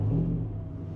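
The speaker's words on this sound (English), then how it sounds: "Hopefully the supercharged Hemi is not too loud for you guys" Low, rumbling idle of a supercharged Hemi engine in a Jeep, a steady deep drone that eases slightly in level over the brief moment.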